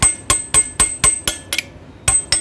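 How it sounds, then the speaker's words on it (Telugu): A hammer strikes a chisel being used to flatten the lock on a Montanari gear motor pulley, giving sharp metallic blows in a fast, even rhythm. Seven hits land in quick succession, then there is a short pause and two more follow. "లాక్ అనేది మనం చిజిల్ తోటి మొత్తం ఫ్లాట్ చేసిన తర్వాత"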